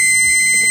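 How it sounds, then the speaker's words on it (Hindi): An electronic buzzer wired to a hardware board with a red LED sounds as a switch is pressed, a loud, steady high-pitched tone held without a break. "रेड LED ऑन हो गई, और उसके साथ साथ बजर ऑन हो गया।"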